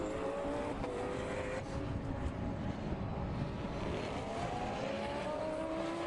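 Endurance racing cars, among them a white Lamborghini, at Circuito de Navarra during the 2011 Blancpain Endurance Series, roaring as a continuous engine drone with rising pitch sweeps as they accelerate, over steady wind noise.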